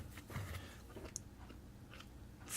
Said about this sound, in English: I'm going to crunch my lettuce.